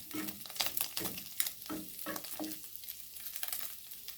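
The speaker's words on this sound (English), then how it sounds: "mix it for a minute." Samosa filling being stirred in a pan with mixed spices, a sizzling fry underneath regular scraping strokes of a spoon, close and fairly quiet, about five or six stirs in a few seconds.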